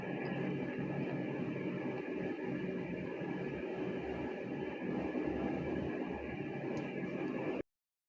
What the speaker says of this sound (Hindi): ये ट्रेन वाला झूला है